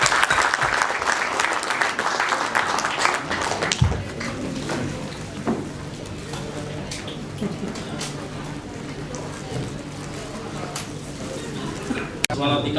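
An audience at a tech event claps to welcome a speaker to the stage, a dense burst of applause for about four seconds that fades into someone talking over scattered last claps.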